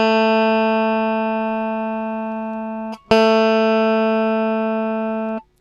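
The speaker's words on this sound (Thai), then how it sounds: "สายสองครับผม เสียง A ครับผม" A plucked phin lute string tuned to A sustains a steady tone, is briefly stopped, then plucked again and rings clearly before being cut off; two notes, close and alone.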